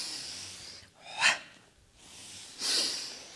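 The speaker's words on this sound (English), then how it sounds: "Breath pattern, double breath." During a pilates mat balance and strength exercise, a person takes two sharp, audible breaths, a quick hiss about a second in and another longer one near the end, with soft quiet between them.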